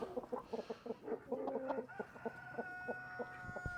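Farm chickens clucking in a busy run of short, rhythmic calls, fairly close, with a few longer drawn-out notes and a thin steady hum behind them.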